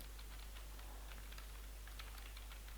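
Fingers type on a computer keyboard in quick, soft clicks, irregular and fairly faint, over a steady low electrical hum.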